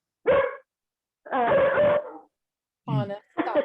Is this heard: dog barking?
yes